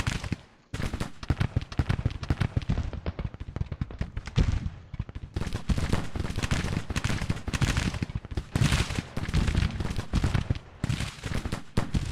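Steady volleys of musket and rifle fire from the Civil War strategy game Grand Tactician rattle continuously, loud crackling shots layered densely with no pauses and no talking.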